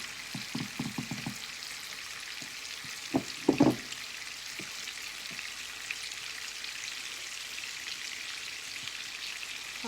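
Frikkadels sizzle in a frying pan, a steady soft hiss broken by a few sharp spits and pops early on, close and alone without talk.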